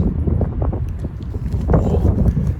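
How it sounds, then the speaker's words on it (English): Wind gusting outdoors beside a brick sandstone church with a slate roof, a steady low rumble buffeting the microphone with no talking. "The wind's picking up, unfortunately."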